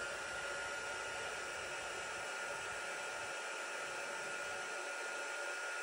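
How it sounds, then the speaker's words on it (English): A heat gun blows with a steady, even hiss and whoosh, running continuously at moderate level with no talking. "I've got my heat gun at the ready"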